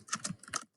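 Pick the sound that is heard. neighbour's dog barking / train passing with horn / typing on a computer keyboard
typing on a computer keyboard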